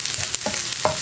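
Sliced onions with peppercorns and whole spices fry in a pan being stirred, giving a steady soft sizzle with a few brief scraping clicks from the spoon.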